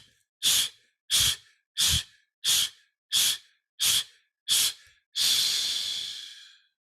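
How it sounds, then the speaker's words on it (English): Seven sharp, forceful breaths blown out in an even rhythm, close and loud, followed by one long drawn-out exhale that slowly fades, with no talking. "you're just going to blow out 10 times"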